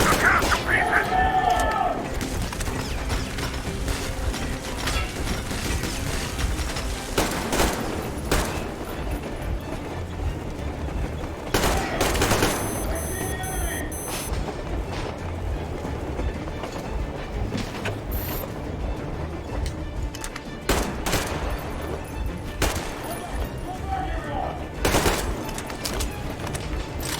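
Gunfire in Metro Exodus comes in bursts among mechanical clanks and rattles, loud and busy, with shouting voices over the combat.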